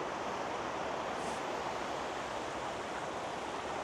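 Water near Whistler's Upper Village rushes in a steady, dense wash, close and constant with no voices.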